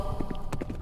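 Rapid galloping horse hooves clip-clop in a quick, even rhythm, several clear strikes in under a second, close and steady over a continuous background tone in a storytelling sound effect.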